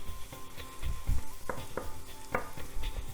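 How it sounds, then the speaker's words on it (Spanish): Leek and sweet onion sauté in a pan for a vegan beet soup, with a steady soft sizzle and repeated scraping stirs of a utensil against the pan, quiet and close with no talk. "Ahora lo vuelvo a subir para darle un par de vueltas con la cebolla"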